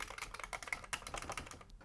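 A faulty Commodore 64 keyboard clacks under quick, uneven bursts of keypresses, close and fairly soft, with no talking.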